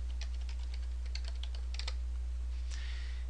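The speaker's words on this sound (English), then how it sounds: "we're going to type Windows Defender in the search box so that we can find it quicker" Quick clusters of keystrokes are typed on a computer keyboard into a Windows search box, close and crisp over a low steady hum, ending with a firmer final key press.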